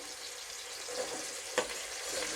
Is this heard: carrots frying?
yes